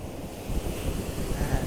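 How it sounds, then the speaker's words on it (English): Ocean waves on the central coast of California, a steady broadband rushing surf with wind buffeting the microphone, continuous and fairly close with no voices. "I'm visiting the central coast of California, so that's where these beautiful waves are from."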